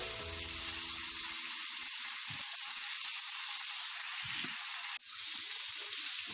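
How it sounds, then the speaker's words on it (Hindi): Chicken steak grilling in a pan, a bright continuous sizzle of frying meat with brief low clatters and a stir early on, the hiss dipping for an instant before resuming steadily. "चिकन ग्रिल हो रहा है, इसके साथ ही हम अब ये पोटैटोज जो मैरिनेट किए थे इनको रख देंगे पैन में।"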